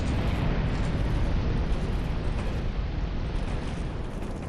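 A roaring fire eruption in Dark Souls 2 Scholar of the First Sin, a loud, dense rumbling whoosh that holds steady for several seconds, then slowly eases.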